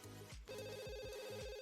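Electronic telephone ringing in The Sims 2, a repeating trilling ring pattern in several quick bursts over quiet game music, ending with a sharp click-like sound.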